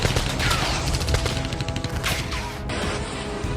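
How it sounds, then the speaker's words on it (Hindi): Rapid bursts of gunfire from an air defense system near an air force headquarters, fired during an Air Force Day event, with dense overlapping cracks and booms that thin out toward the end. "यह वीडियो वायुसेना दिवस के मौके पर फायरिंग का है। यह वीडियो एयरफोर्स के हेडक्वार्टर क्षेत्र के पास तैनात एयर डिफेंस सिस्टम का है।"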